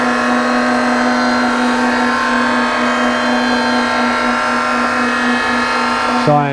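Surface grinder wheel lowered slowly onto hardened race car bolts held on a magnetic chuck, a loud steady high-pitched whine with dense harmonic ringing that holds constant throughout, a brief change at the very end.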